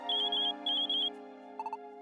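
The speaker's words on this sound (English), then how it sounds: "So, is that the expedition gadget ringing?" Expedition gadget in Pokémon Super Mystery Dungeon ringing in two bursts of a bright electronic trill over a steady synth game tune, followed by a few short lower chirps.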